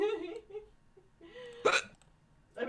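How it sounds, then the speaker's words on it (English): A voice drifts in soft, murmured sounds, then one sudden, loud hiccup rings out clearly before more voice follows. "Sometimes I'm surprised by my own hiccup."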